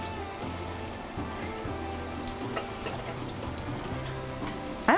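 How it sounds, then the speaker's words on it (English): A pot of water with beet juice coming to a boil, a steady busy bubbling and hiss heard alone, constant and fairly close with small irregular pops throughout. "I think the beet juice is affecting this water boiling."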